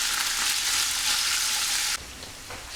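Bacon and onion fry in a pan with a steady, bright hiss that drops suddenly to a quieter crackle partway through, close and continuous with no talk.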